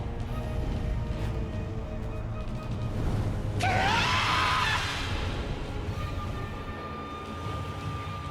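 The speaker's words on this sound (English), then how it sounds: "Still just screaming for the sake of screaming" A high, wavering scream from a Fate/Samurai Remnant game character cuts in suddenly over a dense game soundscape and music, rising loud for about a second before fading under continued background noise.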